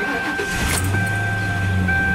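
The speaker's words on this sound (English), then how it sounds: "do a quick cold start on my town car" Lincoln Town Car starting from cold, with a brief cranking burst settling into a steady low idle hum, close and continuous.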